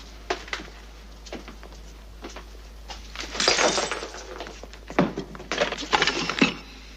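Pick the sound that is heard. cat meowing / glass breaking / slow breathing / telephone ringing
glass breaking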